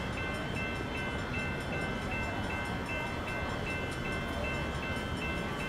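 Train rumbling steadily along in the Train Sim World 6 simulator, a continuous broadband roar with a faint repeating tonal whine, heard alone without talk.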